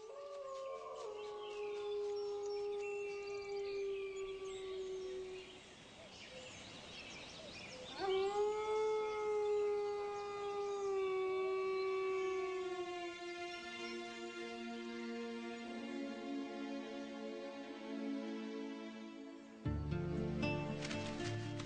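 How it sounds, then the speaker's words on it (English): A young lone male wolf howls in long, sustained, gliding tones, rising and falling in pitch, with layered harmonics, loud and clear across the stretch. "This lone wolf is a young male."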